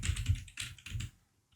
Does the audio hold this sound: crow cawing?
no